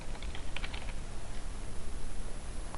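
Quick keyboard keystrokes clicking under a heavy hiss of background noise, several light taps close together as a short word is typed, with no voices.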